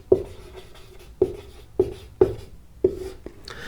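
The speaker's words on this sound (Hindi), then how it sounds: "मैं देखो यहां लिख देता हूं" A teacher writing on a board during a class on atomic structure: five crisp, separate taps and strokes at an uneven pace, close and fairly loud in an otherwise quiet room.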